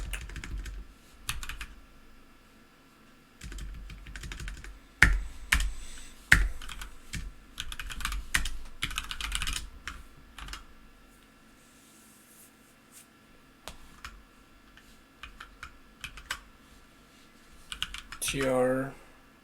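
Rapid, uneven keystrokes clatter on a computer keyboard while JavaScript code is typed, bursts of clicks separated by brief pauses, with someone talking intermittently over the typing.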